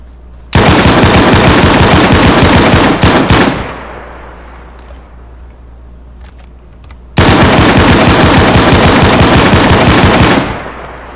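Automatic gunfire in the video game DayZ during a raid on a base, two long sustained bursts of rapid shots, loud and close, separated by a few seconds of quiet.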